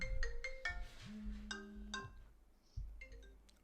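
A phone ringtone for an incoming call plays as a short, bright melodic sequence of repeated chiming tones, clear and fairly quiet, with no talking over it.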